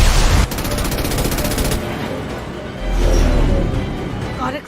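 Rapid bursts of gunfire and heavy booms from the video game Mass Effect Legendary Edition, a loud sustained fusillade with deep thumping impacts, a voice talking briefly under the shooting.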